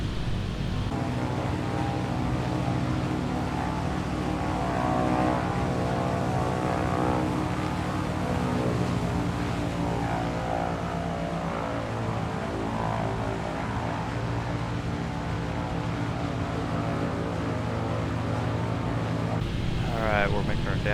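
Single-engine propeller aircraft droning steadily in flight, simulated in Microsoft Flight Simulator during backcountry flying, a continuous loud engine hum with someone talking over it throughout.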